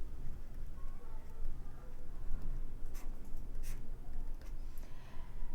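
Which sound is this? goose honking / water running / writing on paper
writing on paper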